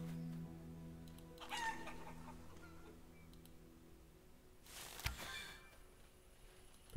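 Chickens in the medieval village game Life is Feudal cluck faintly now and then, with a short rooster-like call near the start and a sharper squawk later, all quiet and without talk.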